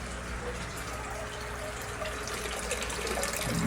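Water draining from a line into a tank in a Kratky hydroponic squash setup, a steady close rushing trickle that holds throughout and swells slightly toward the end, with no voices.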